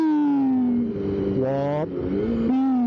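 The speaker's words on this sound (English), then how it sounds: "Oh, that noise when you roll off, just the whoop" A Honda CBR 250RR motorcycle's engine rings loud and close, its pitch sagging as the throttle rolls off, then rising again in a brief whooping surge before settling and climbing once more.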